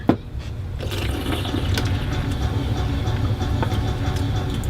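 A can of sparkling water cracked open with a sharp hiss, then poured with a steady fizzing, bubbling rush of liquid that continues through to the end, nearby and fairly loud with no talk over it.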